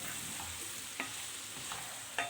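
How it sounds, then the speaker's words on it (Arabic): Tomatoes being stirred in a frying pan for a healthy diet dish, a soft sizzle running steadily underneath with a few sharper utensil scrapes against the pan, close and fairly quiet. "هنبتدي بقى نضيف الطماطم بتاعتنا، ناخد تقليبه بس كده"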